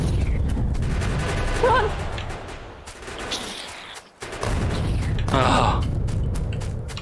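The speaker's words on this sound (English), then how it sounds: "that was a lot of grenades" Grenade explosions in the video game Factorio go off in a dense rattling barrage of booms and blasts, with a player shouting and exclaiming over the din.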